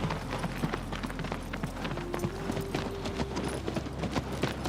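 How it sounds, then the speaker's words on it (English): Horse hooves beat on untrodden dirt in a video game, a steady rhythmic clip-clop at a trotting pace, close and continuous beneath a faint droning tone. "I remember the rhythmic percussion of horse hooves on untrodden dirt."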